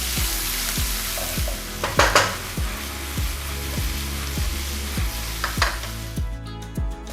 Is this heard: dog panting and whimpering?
no